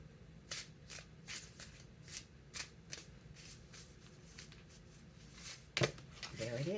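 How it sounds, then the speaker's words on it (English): A tarot card is pulled from a deck, a run of quick crisp card flicks and shuffles repeating close by. The handling is quiet and light, with a brief sharper snap near the end and a voice starting just after. "I'm going to pull a card from here"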